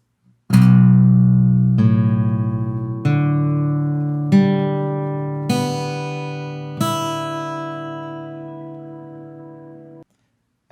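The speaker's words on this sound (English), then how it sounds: "So for this song, we're going to tune the low E string down to a B" Guitar low string detuned from E down to B, plucked open about six times at roughly one-second intervals, each note ringing and sustaining before the next, close and clear with no voices.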